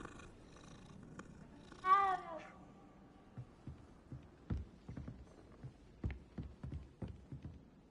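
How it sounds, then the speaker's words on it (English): A cat in the video game Hogwarts Legacy gives a brief meow and then a soft, steady purr while being petted, with light footstep-like taps over a quiet game backdrop. "You gotta pet every cat."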